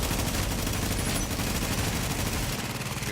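Turret in a PvP survival video game opening fire on an enemy player, a dense, continuous rattle of rapid gunshots with heavy low-end thump, loud and sustained throughout with no talking.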